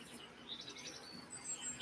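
Faint morning birdsong outdoors, a handful of thin high chirps and trills at a distance over a hushed, still background.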